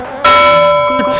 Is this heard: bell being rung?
yes